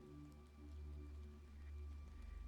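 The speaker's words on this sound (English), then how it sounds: "This made the rain fall even harder." Heavy rain falling steadily as a quiet, continuous wash of drops and hiss, with no voices.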